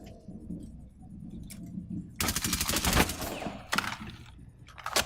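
Rapid automatic gunfire bursts in tactical shooter Rainbow Six Siege during a tournament round, a dense loud volley of roughly a second and a half followed by a couple of shorter bursts and single shots amid quieter game ambience.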